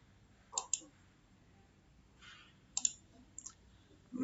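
Mouse clicks on an execute button in a Salesforce Apex window, a quick double click near the start and another pair a couple of seconds later, crisp and close against a quiet room.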